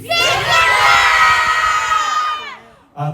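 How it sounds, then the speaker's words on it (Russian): A large crowd of families at an Arctic family forum yells their home municipality names together in one loud, sustained burst of mixed shouting and cheering, briefly dropping before another voice rises at the end. "вы громко кричите название, откуда вы приехали, с какого муниципалитета"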